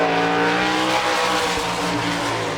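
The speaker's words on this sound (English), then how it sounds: "This is the number 20 car of Brian Ellenberger out of Butler." Number 20 sprint car on a qualifying lap at an All Star Circuit of Champions race near Pittsburgh, its engine roaring loud and steady with a sustained high-pitched drone throughout, no talk over it.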